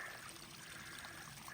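Ice-cold spring water trickles beside the Appalachian Trail, where some ice still lingers, a faint, continuous pouring splash running softly and alone.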